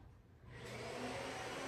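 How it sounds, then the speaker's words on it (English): A vacuum cleaner running across household floors rises from quiet into a steady, fairly distant motor whine and hold, with no one talking. "My daughter is actually going to clean the floors. She's vacuuming."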